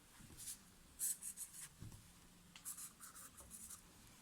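Pen scratching across paper while a diagram is drawn, a quiet run of short, irregular strokes with small pauses, close and alone with no voices.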